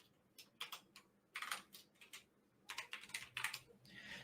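Computer keyboard typing in short, irregular bursts of clicky keystrokes, fairly quiet and close, with brief pauses between runs and no voices.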